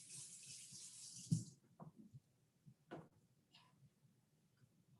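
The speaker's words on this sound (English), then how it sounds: "Just rinse them under the water, okay?" Water from a kitchen tap rinses onions in a steady hiss for a little over a second, then stops, leaving faint clicks and soft handling sounds close by.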